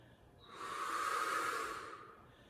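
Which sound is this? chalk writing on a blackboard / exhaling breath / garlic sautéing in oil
exhaling breath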